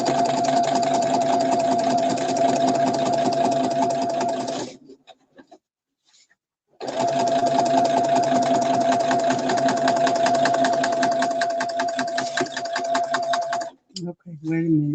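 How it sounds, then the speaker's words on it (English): A sewing machine runs back and forth in steady back-stitching bursts, a rapid mechanical hum that stops briefly in the middle and ends in a short pause, loud and close. "I'm gonna back stitch to get that right"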